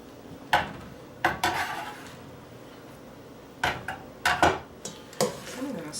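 Curry chicken salad scooped and scraped with a utensil in a bowl, giving scattered clinks and scrapes at irregular intervals, close by with faint background noise and no clear talking.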